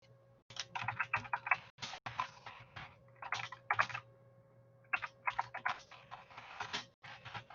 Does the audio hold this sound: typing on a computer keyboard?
yes